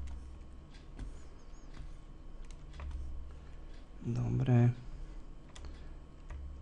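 Keyboard shortcut keys tapped in quick bursts on a computer keyboard, light clicks running under a man's speech and a steady background hum.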